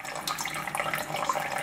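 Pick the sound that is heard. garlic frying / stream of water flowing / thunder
stream of water flowing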